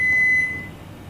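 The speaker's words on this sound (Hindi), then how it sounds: "5 बीप्स के साथ अवन बंद हो जाएगा।" A single high electronic beep from a BOC 606 Turbo built-in microwave oven, a short steady tone lasting under half a second over faint room noise.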